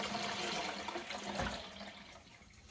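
Toilet cistern refilling with water after a plumbing repair in an old Irish house, a steady close rushing hiss that tapers slightly toward the end, with no voices.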